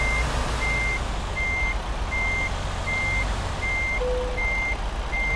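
A truck in American Truck Simulator backs into a parking spot, its reversing alarm beeping in a steady, evenly spaced rhythm over a constant low engine rumble, loud and close throughout.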